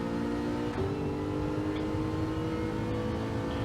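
A race car engine in a racing video game, the Team Tourers class at the Red Bull Ring, droning steadily and rising in pitch as it accelerates out of a corner, loud and continuous with no voices.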